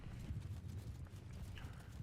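A horse galloping slowly in the Bannerlord Realm of Thrones mod video game, a quiet run of muffled hoofbeats thudding in a loose rhythm under faint ambient noise, no talk.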